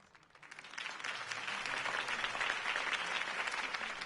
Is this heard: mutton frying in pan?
no